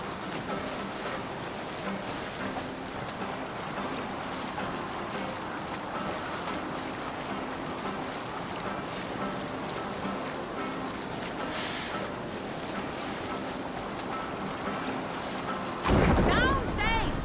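A Viking longship sailing on the sea in Assassin's Creed Valhalla: continuous rushing water and wind against the hull, steady and fairly loud, with a voice calling out near the end.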